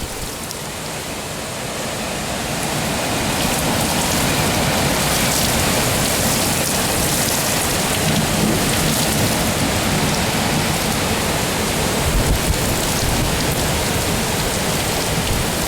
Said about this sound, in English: So maybe the brunt of this storm's getting by us.